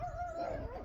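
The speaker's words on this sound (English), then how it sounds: "There's a little dog here." A little dog lets out a thin, drawn-out whimper, a steady whining tone close by over faint outdoor background noise.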